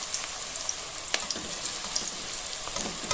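Chicken pakora bubbles and sizzles steadily in hot oil, a dense, crackling hiss that runs without a break at close range, with occasional louder pops and no voices.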